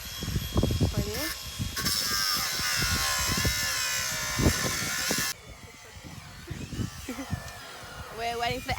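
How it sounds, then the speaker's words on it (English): Angle grinder whining steadily at a distance during demolition of old sheds on a family farm, a high buzzing tone that cuts out partway, under frequent nearby talking. "We're waiting for the angle grinding to finish"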